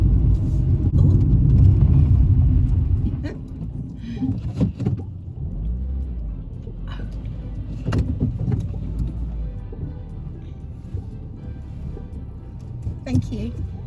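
A passing vehicle on a single-track country lane near Ludham village rumbles loudly close by for a few seconds, then fades, leaving the quieter hum of the filming car while people talk intermittently.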